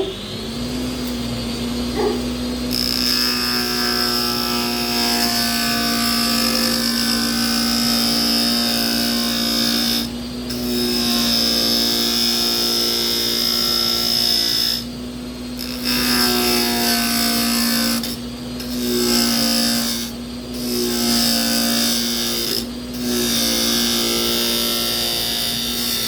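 A lathe spins a piece of barnwood held in a chuck while a parting tool cuts into it, a loud steady motor whine with a high tonal ring that stops and restarts several times, close by and without talk.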